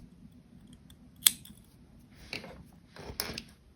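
Scissors snip the yarn of a hand-knitted sock with one sharp, close cut. A few softer rustling handling sounds follow in a quiet room.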